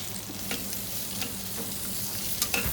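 Mirepoix vegetables and garlic sizzle as they roast in lamb fat for a casserole, a steady close frying hiss broken by a few sharp stirring scrapes, with no talking.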